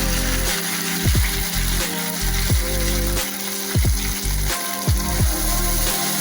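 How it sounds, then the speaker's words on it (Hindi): Ghevar batter is poured in thin streams into hot refined oil, making a loud, constant bubbling sizzle broken by repeated splashy gushes at a steady, unhurried rhythm. "धीमे धीमे करके आपको बैटर डालते रहना है लगातार, और बहुत ही थोड़ा थोड़ा आपको डालना है।"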